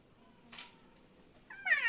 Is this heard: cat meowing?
yes